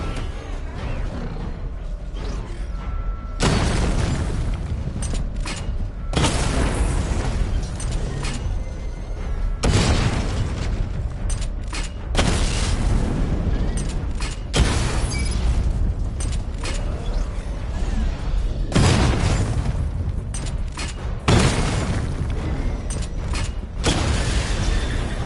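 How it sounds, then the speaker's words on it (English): Heavy missile barrage explosions from Batman: Arkham Knight, loud deep booms in repeated bursts over a constant rumbling mechanical bed. "Charge the missile barrage to level 2 to destroy up to 4 targets at once"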